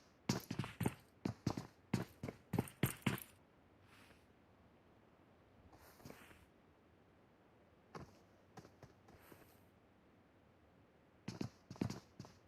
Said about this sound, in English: We can hear the footsteps.